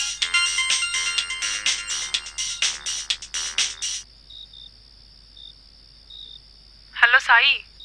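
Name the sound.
phone ringtone ringing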